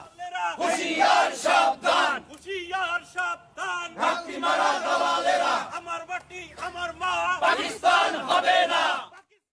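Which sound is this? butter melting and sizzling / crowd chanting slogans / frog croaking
crowd chanting slogans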